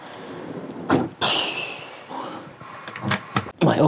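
A drawer slides and knocks inside a Morelo Empire Liner 98 luxury motorhome, giving a few close sliding scrapes and sharp thuds with short gaps between them.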